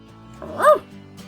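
Boone, a dog in the Choices: Stories You Play game, gives a single short happy bark, bright and close over a quiet music bed.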